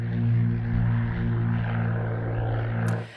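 A propeller airplane flying Airspeed Zone speed enforcement patrol drones steadily overhead, a loud continuous engine hum with strong low harmonics that holds for several seconds before easing off at the end.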